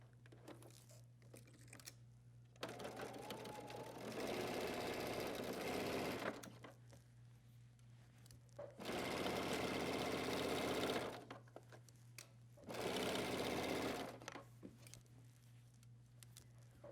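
A sewing machine stitches a circular pinned piece onto the front of a hoodie in three separate bursts of rapid, even needle chatter. Quiet pauses between the runs let a low steady motor hum through.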